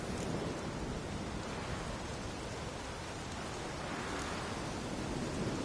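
A steady wash of heavy rain in The Witcher 3 storm, dense and even hiss filling the whole stretch, with no distinct thunderclap standing out and no voices.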